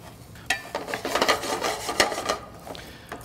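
Rice shaken and stirred in a pan of garlic-infused canola oil for lobster risotto, giving close scraping, rasping grains and faint sizzle in irregular bursts, with no talking.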